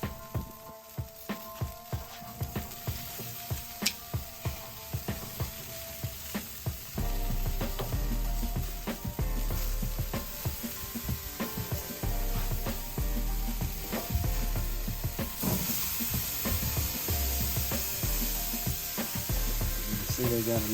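Picante meatballs sizzle and crackle steadily on a BBQ grill after being flipped, a dense continuous frying hiss with scattered pops that grows louder partway through, heard up close.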